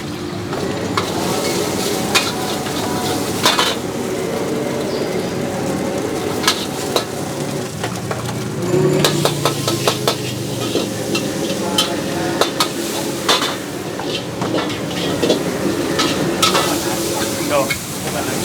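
Curry fried rice stir-fried in a pan, with a steady loud sizzle and repeated scraping and clanking of a spatula against the metal, continuing throughout.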